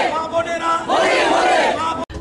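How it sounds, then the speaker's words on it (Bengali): A BJP rally crowd in Agartala chants slogans in unison, a loud, dense roar of massed voices close by that holds steady for about two seconds before cutting off abruptly. "শিক্ষামন্ত্রী রতনলাল নাথ মিছিলে স্লোগান তুলেন।"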